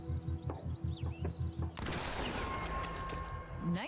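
Gunfire in The Quarry horror video game: a rhythmic pulsing game score of evenly spaced beats is cut by a sudden loud shot, followed by a sustained noisy reverberant wash that lingers to the end.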